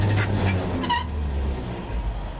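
A 1953 GMC truck driving down the road on a long trip, a loud, steady low engine rumble and road noise heard close from inside the cab.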